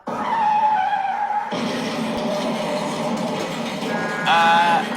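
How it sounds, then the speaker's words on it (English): Tires screech loudly in a staged car accident, a sustained squeal followed by a burst of broad, rough noise and a second sharp screech near the end. "I just got in a car accident."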